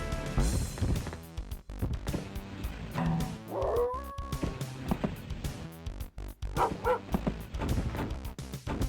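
Dog barking in dog mode in the video game Rise of the Triad: repeated yips, barks and whimpering howls over constant game noise and music, fairly loud and busy throughout.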